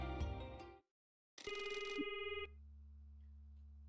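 A telephone call rings inside the video game Promise Mascot Agency. Bright electronic ring tones come in two bursts with a short gap between them, and a steady low hum continues underneath afterwards.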